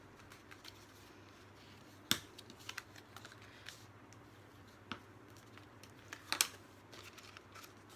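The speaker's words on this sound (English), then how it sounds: "we're going to fold these back and burnish along your score line" Card being folded back and burnished along its score lines, quiet dry rubbing and creasing with a few sharp crisp snaps and clicks scattered over several seconds.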